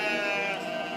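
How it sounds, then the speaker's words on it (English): A single close sheep bleat, steady and sustained, rising slightly in the middle. "Hey, sheep."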